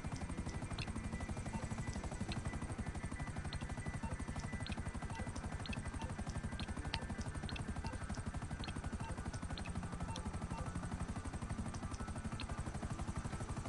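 A helicopter in the video game GTA V, its rotor thumping in a steady rapid chop that fills the whole stretch at constant loudness, with faint scattered clicks on top and no voices.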